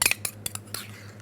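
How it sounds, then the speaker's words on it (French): A utensil clinks and scrapes against a mixing bowl while cake batter of flour and vanilla is stirred smooth, a few quick metallic taps then quieter. "On remue pour que ça fasse quelque chose d'homogène."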